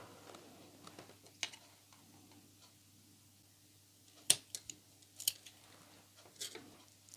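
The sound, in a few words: scissors cutting off excess twine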